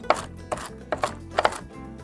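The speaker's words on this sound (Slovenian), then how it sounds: "Grobo nasekljamo orehe ali pekane in jih dodamo v skledo." A knife coarsely chops pecans on a board, four or five sharp, evenly spaced thuds landing about every half second, close and alone with no talking.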